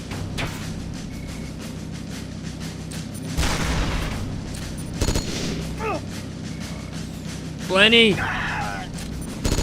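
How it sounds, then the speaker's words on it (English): Gunfire and heavy booms ring out during a tank battle in a Kojima video game, sharp repeated bursts with bigger blasts breaking through, while voices talk over the action. "stop shooting him with the goddamn machine guns"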